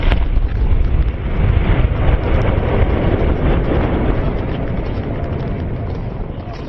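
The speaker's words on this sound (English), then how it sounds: "The F-16 rolled right over the top of the enemy, dropping a 500-pound bomb right on their heads." A 500-pound bomb dropped by an F-16 explodes in a city, a loud, sustained rumbling blast that rolls on for several seconds, fading slightly toward the end.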